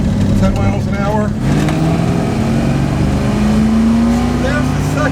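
A vintage muscle car accelerates in first gear from a slow roll, with the carburetor secondaries opening. The engine is loud and close, its pitch rising steadily under continuous speech.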